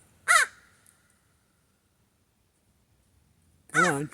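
Birds directly overhead give two loud, harsh crow-like caws, one at the start and one near the end, separated by near silence.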